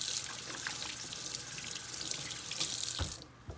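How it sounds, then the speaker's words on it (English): Hands are washed under a running tap, a close steady gush of water into a sink for about three seconds, then the flow stops with a last small splash. "And then I'm going to wash all those germs away because we don't want anybody else to get our germs."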